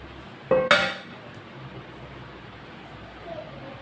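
Two sharp metallic clinks of a spoon against cookware ring out as cooked tori sabzi, a ridge gourd curry, is served onto a plate, followed by quiet room noise.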